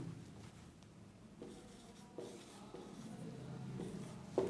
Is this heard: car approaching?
no